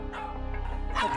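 Kancho, a fearful, aggressive pet dog at home, lets out a short yip or bark under soft room noise and faint talk, with a louder burst at the end.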